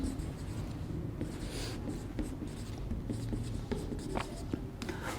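Steady scratching and tapping of writing on a board during a Class 11 physics lesson on fluid properties, close and continuous with small irregular strokes, over a faint background hum.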